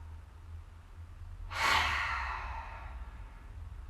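A single deep yoga breath, drawn in and then let out in a long, soft exhale that fades gradually over low background hum.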